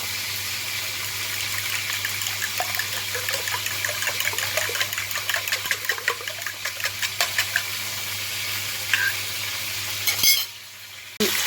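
Eggs beaten with salt and black pepper for a tomato omelette, a steady run of fast, clicking strokes at close range over a sizzling pan and a low hum, the whisking going on alone with no voices.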